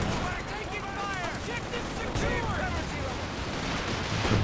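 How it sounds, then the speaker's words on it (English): In Company of Heroes 2, a walking Stuka barrage sends whistling rockets sweeping through the air over a dense, continuous roar of explosions and gunfire. "Comes a walking Stuka barrage."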